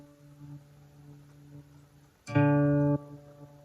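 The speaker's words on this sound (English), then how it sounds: "we got the D string tuned down to a C, which is going to sound like this" A guitar's D string, tuned down to C, is plucked once, ringing briefly and cut short, following a faint lingering hum of earlier notes.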